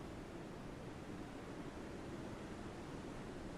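Ocean waves in the submarine game Silent Hunter 5 wash steadily in a broad, unbroken roar, with a constant surf-like hiss and a low rumble underneath, with no voices.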